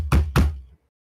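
Two sharp knocks on a wooden surface, close and loud, evenly spaced with a short ringing decay after each and nothing following.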